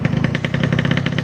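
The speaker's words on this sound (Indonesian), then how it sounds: "Nah, ini jalan terus nih motor nih" A Yamaha RX King motorcycle engine runs with a steady, rapid two-stroke pulsing, loud and close, with a rough, buzzing idle-like throb and no talking.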